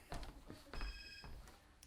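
A phone rings in a domestic scene, a few short electronic tones repeating at moderate level, with brief bursts of noise around them and no one speaking over it.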